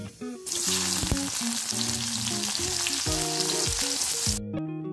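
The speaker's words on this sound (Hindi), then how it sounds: "और फिर इसे गोल्डन ब्राउन होने तक मैं भून लूँगी, फ्राई कर लूँगी।" Two large chopped onions fry in hot oil in a home Indian kitchen, a steady loud sizzle starting abruptly and running continuously, with faint stirring and musical tones underneath before cutting off near the end.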